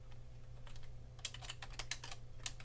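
Rapid keystrokes on a computer keyboard, a quick uneven run of light clicks over a low steady hum, close but faint and with no speech.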